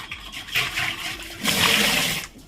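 Water gushes into a clay water pot (matka), starting with an uneven splashing pour and then rising to a fuller, louder rush before easing off.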